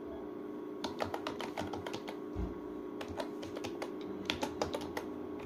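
Rapid, uneven keystrokes on a computer keyboard while student records are entered into an Excel spreadsheet, clicks bunched in quick bursts over a steady low hum, close and fairly quiet, with no talking.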